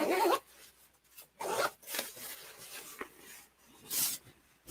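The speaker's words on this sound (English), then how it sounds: "Let me zip it back up for you" A clothing zipper is pulled in several short, scratchy bursts, irregular in rhythm, close and fairly quiet, with soft rubbing of fabric between strokes.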